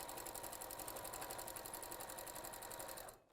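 A sewing machine runs steadily as it stitches a quilt seam at a 2.4 stitch length, a fast, even mechanical whir with rapid needle ticks, close and continuous, then stopping abruptly near the end.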